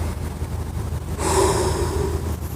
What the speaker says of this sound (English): when you're exercising and you're breathing hard